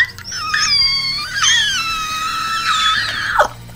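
A human voice imitates a vampire's screech, giving a loud, shrill, wavering scream that rises and bends in pitch for several seconds before cutting off sharply.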